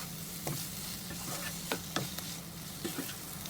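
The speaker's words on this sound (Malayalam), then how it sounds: "നമുക്കിതിനെ നന്നായി മിക്സ് ചെയ്തെടുക്കാം." Tri-colour capsicum salad with its dressing tossed in a pan on the stove: soft steady sizzling with intermittent scraping and tapping of a utensil, spaced irregularly, fairly quiet and without speech.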